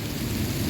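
Rain pours steadily in a spring storm while low thunder rumbles continuously underneath, a dense, close wash of noise with no voices.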